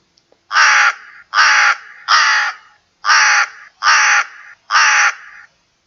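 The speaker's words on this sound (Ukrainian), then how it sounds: "Так, це був голос ворони." Six loud, harsh crow caws in two groups of three, each a rasping call about half a second long, close and clear against silence.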